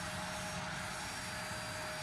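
Aircraft engines keep running in Microsoft Flight Simulator 2024, a steady, even droning hum with a faint high whine and no pauses.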